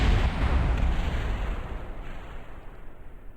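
Fireworks explode in the video game Kerbal Space Program, a loud, dense burst of booming crackle that slowly fades into a lingering rumble over a few seconds.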